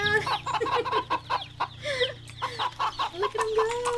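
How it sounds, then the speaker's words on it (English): Chickens cluck steadily in a farming video game, with chicks bouncing around; bursts of short, fowl-like clucks and squawks repeat throughout over a low background hum, fairly close and loud. "Oh wait, there's chickens too."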